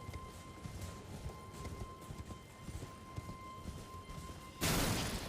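Horse hooves clip-clop steadily at a walking or trotting pace in a video game, fairly quiet under a steady background hum, before a sudden burst of broadband noise near the end.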